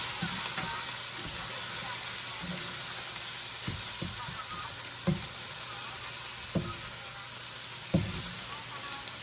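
Egg and fried rice sizzle steadily in a hot pan, with scraping stir strokes recurring every second or so over the constant frying hiss, close and fairly loud.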